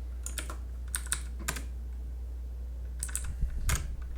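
Computer keyboard keys tapped in short bursts of a few clicks each, clustered near the start and end with pauses between, close and clear over a steady low hum.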